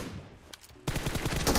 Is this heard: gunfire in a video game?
yes